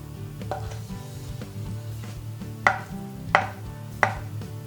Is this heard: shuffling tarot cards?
no